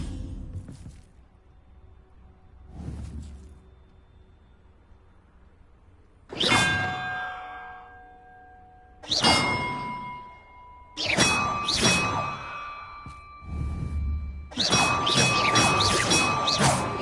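Bells are rung one after another in a video game, several bright metallic clangs with long ringing tails. The strikes come at uneven intervals and grow denser toward the end over a quiet background.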